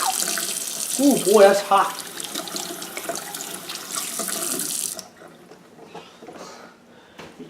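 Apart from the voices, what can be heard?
hands being washed under a running tap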